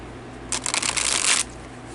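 A deck of cards riffle-shuffled for a reading, one quick close flurry of about a second standing out clearly against a quiet room.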